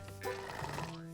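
A cartoon racehorse lets out one short, faint neigh, a quick rising and falling whinny heard alone.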